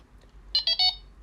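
A Delkim bite alarm gives three quick, bright electronic beeps as it is switched on, close and clear against near silence.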